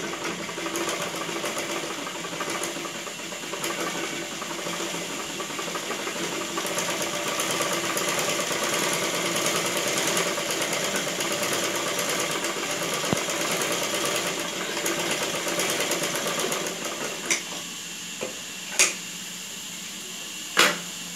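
A sewing machine stitches the neck of a boat-neck blouse with a steady, close mechanical whir that runs for most of the time, then stops into a few sharp clicks and knocks near the end.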